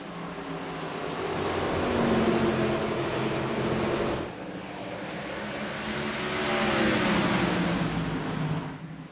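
Race cars roar past at a green-flag restart of a short-track all-star race, a loud dense engine drone that swells, dips briefly and swells again as the pack accelerates by.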